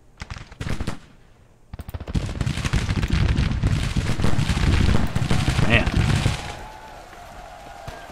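Musket gunfire in a Grand Tactician: The Civil War battle: dense, crackling volleys roll on for several seconds, then die away into a faint rumble.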